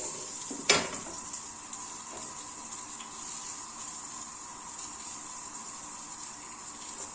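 Leafy greens' midribs frying in a pan with salt and pepper give a steady, soft sizzle throughout, with one sharp stir or scrape of the pan early on and faint clinks later.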